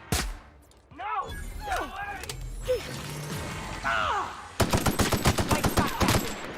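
Gunfire in The Outer Worlds: scattered sharp shots and vocal-like squeals and mechanical clatter give way to a loud, close burst of rapid automatic fire, roughly a dozen evenly spaced cracks over the final two seconds.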